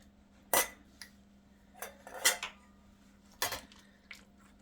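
Ground sausage is spooned into glass canning jars for pressure canning, giving several sharp clinks of a utensil against glass at irregular intervals over a low steady hum, with soft squishy scrapes between.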